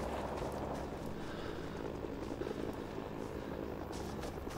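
Helicopter in the Rising Storm 2 war game flying behind enemy lines, a steady broadband rotor and engine roar that fills the whole clip at a constant low level without a break.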